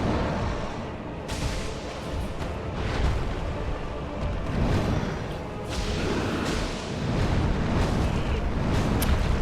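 Heavy booming thuds and rumbling crashes of the Manus boss attacking in Dark Souls roll through in several surges, dense and forceful, with no one talking over them.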